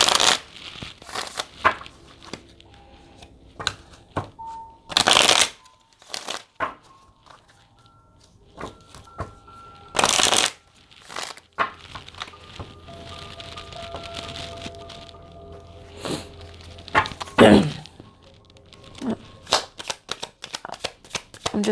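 Tarot advice cards being shuffled in short riffling bursts separated by quiet stretches, with a few crisp, loud riffles standing out among softer card handling and sliding.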